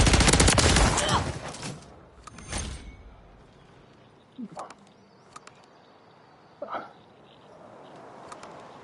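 Gunfire in Call of Duty: a loud, rapid burst of automatic fire at the start, followed by a few quieter, scattered single shots spaced out over a low background.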